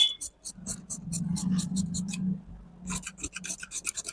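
Scissors cut cloth for a size-32 katori-style blouse, a soft rasping snip-and-slide of blades through fabric repeated at close range, with a few faint clicks and quiet handling between strokes.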